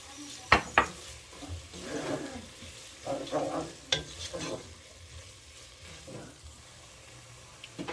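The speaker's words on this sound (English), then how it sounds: "Alright, I'm going to add my tomatoes." Tomatoes added to a sizzling pan of lentil bolognese, with soft frying hiss, stirring scrapes and a few sharp clinks of utensil against pan, moderately quiet and close.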